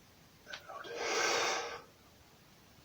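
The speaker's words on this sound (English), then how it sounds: "you're breathing all this in through the nose, deep into the chest, and out through the mouth" A single slow, deep breath in through the nose, drawn out and fairly close, with no talking.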